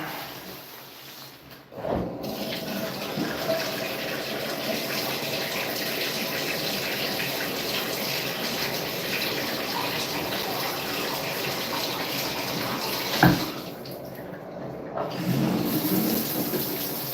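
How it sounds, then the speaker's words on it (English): Steady running shower water pours continuously for the whole stretch, a dense even hiss at moderate level, broken by a brief pause near the start and a single sharp knock later on. "I'm going to go in the shower."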